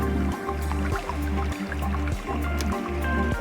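Water runs from a jetty into a cistern in the survival building game Endzone, a steady gurgling trickle and dribble with a repeating squishy, dripping pulse over a constant low hum.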